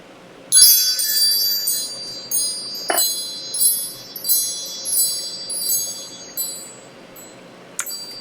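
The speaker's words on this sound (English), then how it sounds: "Let's call in spirit with some moon chime time." Moon chimes ring out in shimmering, high metallic tones, struck several times in a loose rhythm so that bright clusters of ringing overlap and slowly fade, close and clear in a quiet room.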